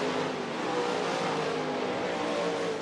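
Race cars roar past on a short oval track at night as the field comes to the flag off turn 4 on the final lap, a dense, steady engine drone filling the air with no break.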